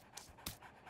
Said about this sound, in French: Un petit chien!